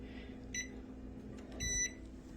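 An oven timer is set with two short bursts of electronic beeps against a low steady hum, the second a quick double beep, close and clear with no talking.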